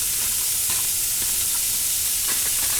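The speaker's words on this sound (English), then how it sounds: "So I just have a smidge of oil, and we're going to brown some of this." Ham browning in a little oil in a pan gives a continuous bright sizzle and hiss, close and steady, with a few faint clinks of a utensil stirring.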